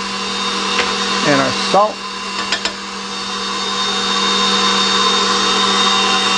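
An electric mixer mixes breakfast bar batter with sugar, giving a steady droning whir that hums throughout and grows slightly louder toward the end, while a person talks briefly over it.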